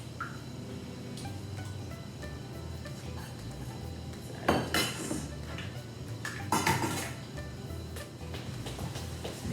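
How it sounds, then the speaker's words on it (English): Beaten eggs being mixed in a container for a banana recipe in a community kitchen, with soft scraping and clinking of utensil against the bowl and a few louder clatters midway. "mixing it well, combining all the ingredients"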